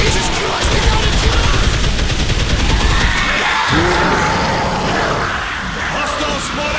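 Gunfire in Dead Island Riptide, a loud, dense burst of rapid automatic shots sustained across the whole stretch, mixed with shouting voices.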